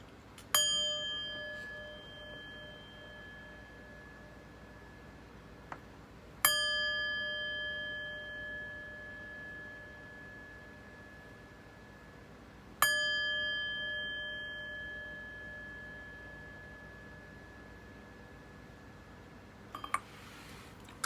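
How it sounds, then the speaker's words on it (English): A chime is rung three times at even intervals before a tarot reading, each strike a clear, bright metallic ring heard close that sustains and slowly fades, followed by a soft tinkle at the end. "But first, let's chime."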